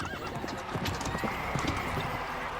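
Cartoon horses pulling a tanga (horse cart) in a village race, with brisk, continuous clip-clop hoofbeats and a whinny, close and fairly loud over busy background noise.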